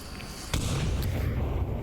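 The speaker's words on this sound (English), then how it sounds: "There's those nades that I was talking about before" A grenade goes off in the VR shooter game Onward with one sharp blast followed by a lingering rumble, under a steady background of game noise.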